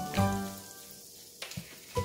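Butter sizzles on a hot tawa with a steady frying hiss, broken by a few close clinks and scrapes of a utensil, and no one talks.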